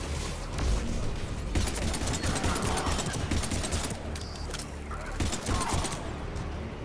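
Rapid bursts of gunfire from Mass Effect 3 combat, a dense fusillade of shots with booms and mechanical clatter, loud and continuous, with voices faintly underneath.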